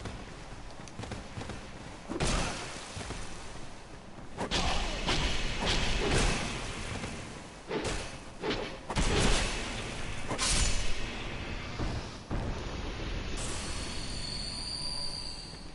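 Heavy thumps and thuds from tree creatures in the Shaded Woods of Dark Souls II, landing in irregular bursts over a dense, noisy game soundscape, close and fairly loud.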